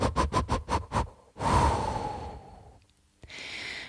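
Breathing during an intermediate yoga class: a run of short, rhythmic, forceful breaths through the nose, then one long audible exhale that fades out, heard close and without talk.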